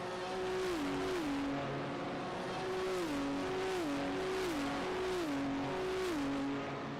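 Race cars in the iRacing video game run BMW Z4s around the Hockenheimring, engines droning at a steady, moderate level through the corners. The pitch repeatedly steps down as the drivers shift, with faint tire noise underneath.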